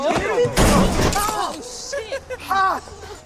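A glass bottle smashes during a tense bullying scene in the horror film Halloween Ends: a sharp, loud burst of breaking glass and clatter, with voices shouting and talking around it.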